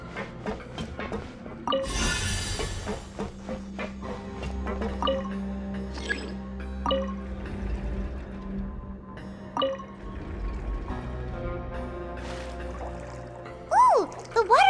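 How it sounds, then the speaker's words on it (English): In Genshin Impact, water rises after a mechanism is activated, giving a steady pouring rush with scattered drips and liquid plinks, while a game score plays and speech appears briefly. "The water level's gone way up!"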